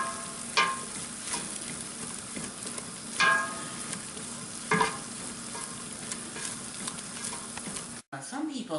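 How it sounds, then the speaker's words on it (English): Flour is stirred into a sizzling roux in a pan, a steady frying hiss broken by periodic scraping stir strokes, close up, with a brief cut near the end. "now it's time to add the flour so we can make our roux"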